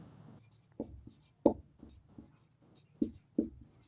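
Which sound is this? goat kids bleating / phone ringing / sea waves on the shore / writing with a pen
writing with a pen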